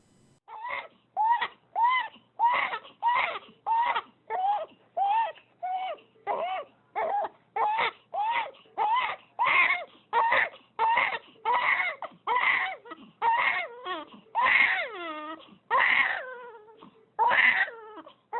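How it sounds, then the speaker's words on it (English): A newborn infant addicted to drugs at birth cries uncontrollably in a steady run of loud, close wails, each cry separated by a short gasp, going on without a break and with no other voices. "Uncontrollable crying."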